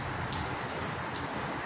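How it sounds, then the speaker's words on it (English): Steady rain falls in an even, soft hiss of drops pattering on a surface, faint and continuous with no voices. "raining right now"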